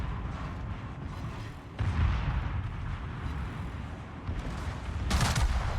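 Naval artillery from the Prinz Eitel Friedrich in World of Warships rumbles continuously, with heavy booms swelling in bursts over a dense, grinding battle din.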